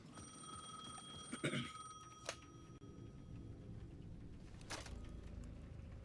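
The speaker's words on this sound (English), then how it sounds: "The payphone at the edge of the plaza was ringing again." A payphone at the edge of a plaza rings in the video game Alan Wake 2, repeating electronic bell tones in the opening seconds, then a few sharp clicks over dark, low ambient noise, with no talking.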